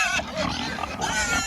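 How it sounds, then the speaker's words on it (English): Pigs on open pasture grunt and squeal loudly and continuously, agitated over an empty feeder, a dense overlapping chorus of harsh oinks and shrieks close by. "So the pigs are pretty mad right this minute"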